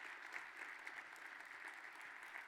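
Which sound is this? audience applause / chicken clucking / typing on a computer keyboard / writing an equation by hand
audience applause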